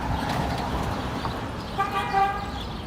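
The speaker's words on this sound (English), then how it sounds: "Yeah, they're still honking" Car horns honk on a Williamsburg, Brooklyn street around a school bus held up by a double-parked car, with short tonal toots sounding in the final second amid steady traffic noise and a faint background voice.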